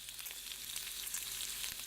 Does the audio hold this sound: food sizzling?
yes